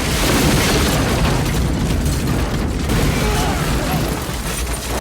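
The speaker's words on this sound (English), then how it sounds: "she goes out for some seafood and immediately explodes" Film explosion from the action movie The Specialist: a loud, sustained blast and rumbling roar with crackling debris that fills the whole stretch, then cuts off abruptly at the end.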